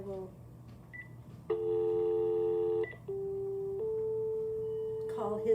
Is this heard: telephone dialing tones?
yes